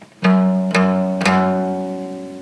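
Three plucked guitar notes on the second fret of the E string, evenly spaced and ringing at the same pitch, each letting the string sustain and slowly fade.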